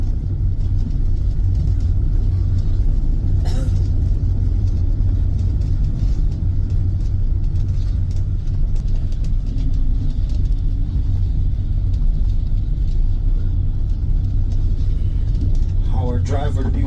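A car cruising steadily on a road in Portugal, a constant low engine and tyre rumble filling the cabin throughout, with a few faint clicks and brief higher sounds near the end.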